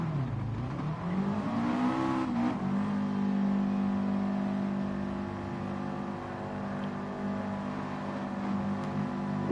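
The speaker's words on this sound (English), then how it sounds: "it's quite good to see a load of Scoobies just head out of the pits together" A group of Subaru Impreza race cars pulls out of the pits at Spa, with engines revving and rising in pitch, then settling into a steady droning hum, close and fairly loud.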